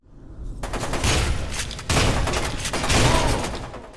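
Shotgun blasts in F.E.A.R. 2: Project Origin, fired as rapid back-to-back shots, each loud and sharp with a crackling, light pellet-like report over continuous game noise.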